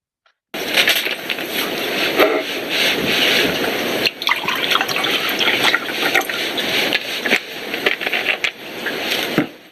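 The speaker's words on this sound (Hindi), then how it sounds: "दोनों ग्लासों में पानी डाला" Water poured into two glasses, a steady splashing, gushing flow that runs for several seconds with small surges and breaks, close and fairly loud, no voices.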